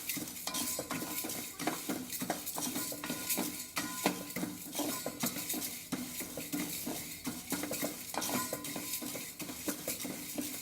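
Dry dals for rasam powder being stirred and roasted together in a metal pan over high heat, with continuous scraping and clattering of a utensil against the pan and a faint sizzle, steady and close.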